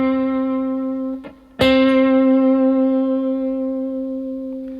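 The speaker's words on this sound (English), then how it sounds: "We're going to pick the note, and we're kind of doing just a really small mini bend up and down." An electric guitar sustains a single picked note on the fifth fret with small, gentle bends up and down, ringing bright and steady. It briefly dips, then is freshly picked about halfway through and keeps sustaining.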